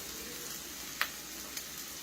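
Onions frying in a pan for a cauliflower curry give a quiet, steady sizzle throughout, with a couple of brief clicks from the pan. No one speaks.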